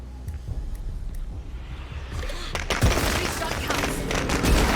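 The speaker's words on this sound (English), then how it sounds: "Let's go ahead and get a firecracker on the ground" Firecrackers burst in a video game, starting as a few faint pops and then breaking into a loud, rapid crackling barrage of bangs and booms that keeps going.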